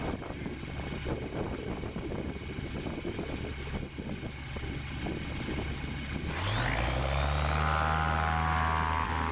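Light sport aircraft engine droning steadily at a distance, then rising sharply as it revs up hard for a short takeoff, with the pitch climbing and the sound growing louder and fuller.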